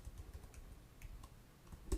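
Quick keyboard presses tap out an Excel shortcut, Alt-A-W-T then Tab: a short, faint run of separate key clicks at close range, with one louder clack near the end and no talking.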